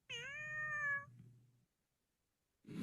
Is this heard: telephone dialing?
no